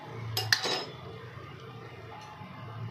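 A metal spoon clinks against a pot while stirring and sprinkling water over biryani, a couple of sharp clinks and scrapes early on, then quieter faint rustling with a low background hum.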